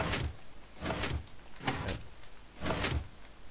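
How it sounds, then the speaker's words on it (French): A code-locked door sounds four sliding, whooshing bursts in a regular rhythm, each with a brief mechanical whir, close and moderately loud, with no speech. "la porte s'ouvre"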